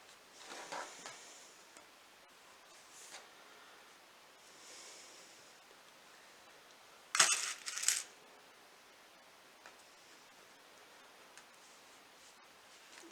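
Fabric being pinned by hand while sewing a baby sweatshirt: faint soft rustles and small metallic clicks, with a brief louder burst of handling noise in the middle, otherwise quiet.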